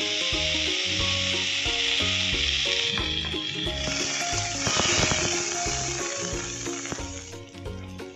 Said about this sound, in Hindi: अभी हम मछली को थोड़ा सा फ्राई करके ले लेते हैं।